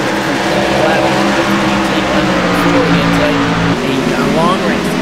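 Race cars in a PRO Series 150 at Richmond roar down the track, their engines droning loud and close with rising pitch sweeps as cars pass, under continuous commentary.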